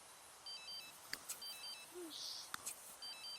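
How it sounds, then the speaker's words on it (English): A phone ringing in The Sims 3, heard as repeating short electronic trill bursts at steady intervals, moderately loud, mixed with brief game clicks and chimes. "I think his phone is the one that's ringing"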